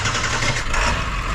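A repaired truck engine with leaking exhaust manifolds runs at a steady idle, a loud, continuous low rumble close by with no talking over it.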